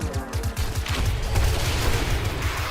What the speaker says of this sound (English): Man, I hate this explosion.